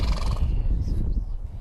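A horse neighs on a hillside property above El Sobrante, a loud whinny at the start that fades into a low rumble of wind and movement.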